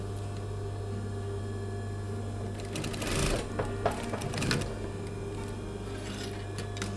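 A sewing machine stitches pleats into the seam of a man's shirt being remade into a halter-neck dress, with a steady close motor whir and a denser burst of rattling stitch clatter in the middle.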